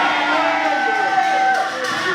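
A church congregation in Kinshasa shouts back loudly as one, a dense, brief burst of many voices, cheering and whooping together in a reverberant hall.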